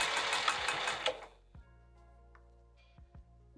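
A sewing machine runs in a fast, steady burst of stitches through a piped bag for about a second and a half, then slows to a few separate clicks and thumps, all close and unaccompanied by talk.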